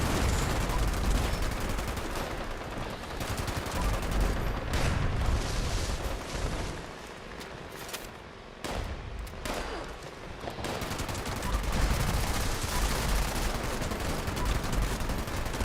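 Heavy gunfire in Fallout 76, a sustained barrage of rapid automatic shots and booming blasts with a brief lull midway before firing resumes loudly.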